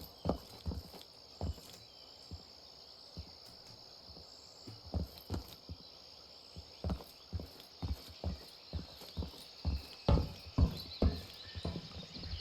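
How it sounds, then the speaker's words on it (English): Footsteps of enemy players in the game Incursion Red River, a steady run of thudding steps near and clear, growing slightly louder toward the end, with no talk. "I heard the footsteps."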